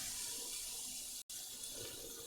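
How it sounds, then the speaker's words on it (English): Pasta water poured into a kitchen sink drain, a continuous hissing, splashing rush of liquid, close and steady, broken by one very brief gap midway. "the pasta water down the drain"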